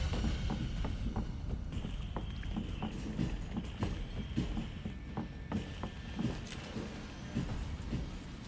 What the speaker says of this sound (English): I can, like, hear his footsteps in the goddamn distance.